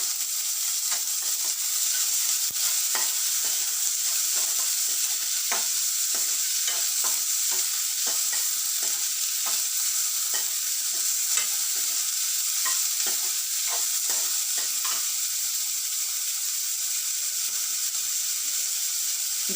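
Chopped medium-size onion stirred and frying in a pan, a steady close sizzle with repeated scraping strokes of the stirring utensil throughout, no voices.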